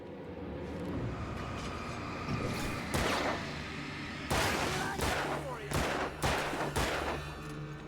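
Gunfire rings out in the video game Alan Wake, a rapid run of sharp shots, several close together, over a rumbling game soundtrack, with a voice talking faintly beneath.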